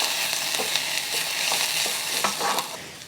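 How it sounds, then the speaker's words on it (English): Garlic sizzling in a pan as it starts cooking for Asian-style sweet and smoky ribs, a steady loud frying hiss with a few light stirring scrapes. "now I'm adding my garlic. You just want to cook this for about 30 seconds"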